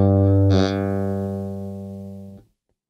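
Bass guitar note fretted in the middle of the fret, giving one low note with a brief buzzy attack that rings for about two seconds, fading steadily before being cut off.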